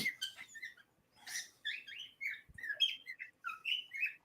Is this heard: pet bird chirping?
yes